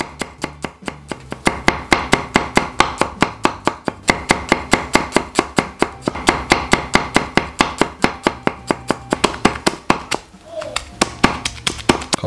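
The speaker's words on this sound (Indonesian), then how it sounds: "Satu persatu bumbu seperti bawang merah, bawang putih, cabai, saya rajang seperti ini." Shallots, garlic and chili are chopped for Balinese pork soto, a fast, steady run of sharp knife strikes on a board, loud and close, pausing briefly near the end.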